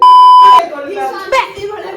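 A sharp electronic beep holds one steady tone for about half a second at a reception party, then cuts off as people talk and chatter around it.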